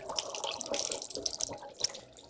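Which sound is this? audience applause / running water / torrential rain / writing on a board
running water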